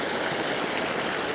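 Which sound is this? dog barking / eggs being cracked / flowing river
flowing river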